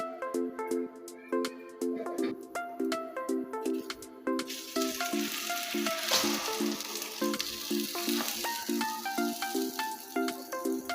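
Cinnamon sweet toast slices fry in a pan, three at a time, with a steady loud sizzle that swells midway, overlaid by a repeating melodic background tune.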